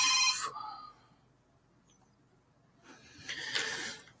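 A telephone rings with bright electronic bursts, one at the start and another near the end, separated by a quiet gap in an indoor room.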